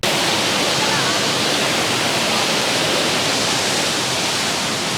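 Small waterfall on Maui, a loud, continuous close-up roar of falling water with a steady, unbroken hiss.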